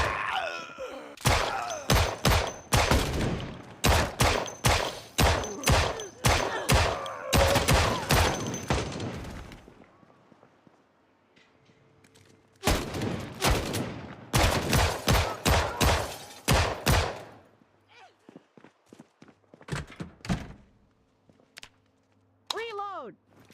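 Rifle fire in the zombie survival game Project Zomboid, fast bursts of loud shots in two long volleys with a pause between, then a few scattered shots and some thumps at the end.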